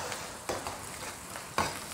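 Pork intestines stir-fried with seasonings and red and green peppers in a wok, steady sizzling broken by a few sharp scraping stirs, close and alone without talking.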